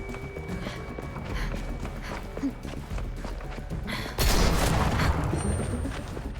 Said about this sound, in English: Wie kann er mehr als zweimal schießen in der Doppelläufigen?